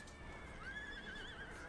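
Cavalry horses of Delhi horsemen in the strategy game Empire: Total War whinny across a battlefield, a drawn-out neigh rising and wavering over a steady din of battle noise, with hoof clatter mixed in.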